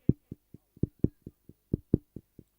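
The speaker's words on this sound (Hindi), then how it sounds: "देखिए धड़कने कैसी चलती है" Heartbeat sound effect played during a cricket match broadcast: low, thumping beats in a steady lub-dub rhythm, about a dozen pulses, clear and alone with no talk over them.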